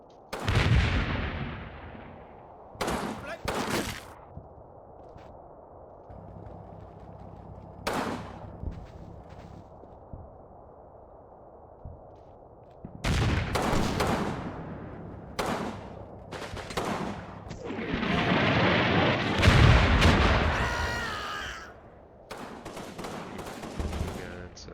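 Artillery strikes land in the war game Combat Mission, with several loud, booming blasts and crackling bursts spread out with quieter gaps between them, and someone talking between the impacts.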